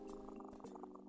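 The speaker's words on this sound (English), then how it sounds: "Cronut interrupts your activities with a meow." A short, faint cat vocalisation from the pet cat Cronut in a video game, a soft murmuring, purr-like call lasting about a second.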